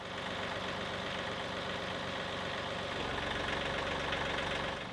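A tractor engine idles at low throttle with a steady, dense diesel chug that stays even throughout, close by and with no voices.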